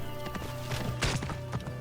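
Horse hooves clip-clopping in Assassin's Creed Origins, a run of quick, even hoofbeats at close range over steady game music, with one louder thump partway through.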